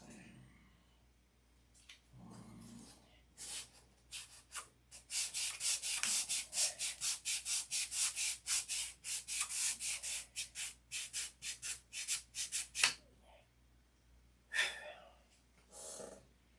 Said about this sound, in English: Sand the spot.